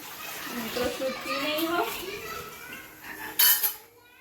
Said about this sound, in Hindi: आपने देखा कि श्रेया पूजा का बर्तन धो रही है